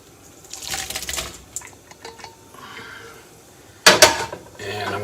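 Cooked shrimp tipped from a pot into a bowl, with a sudden sharp clatter and rattle of pieces hitting the dish after quieter kitchen handling, followed by a low steady hum.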